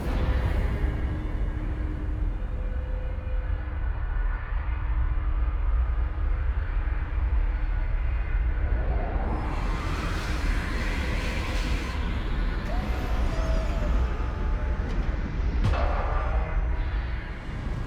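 A gravship in the game Rimworld sets down outside the ruins of a leaking ancient reactor, with a steady, loud, broad engine roar throughout and a rising whoosh midway.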